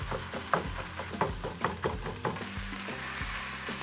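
Beef sizzles and fries in a hot pan with a steady crackle, punctuated by several dull pounding thumps as the meat is pressed down, no talking.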